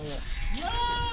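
A goat bleats with a wavering cry in the middle of loading onto a vehicle at a livestock yard, the call rising clearly above the steady background noise while someone talks over it.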